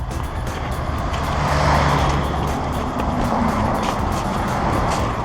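A car passes on a road near a trail run in Alsace: a steady engine and tyre rumble that swells as it draws close, then holds on, with a faint voice briefly underneath.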